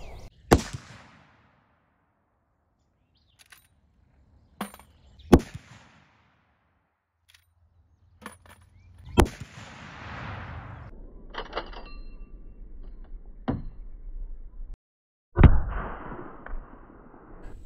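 A 45-70 lever-action rifle fires LeverEvolution 325gr FTX ammunition outdoors in sharp, loud cracks spaced several seconds apart, with quieter clicks and mechanical handling noises between shots.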